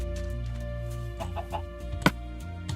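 A chicken in Minecraft clucks repeatedly in quick little bursts over ongoing game music, with a sharp click near the end.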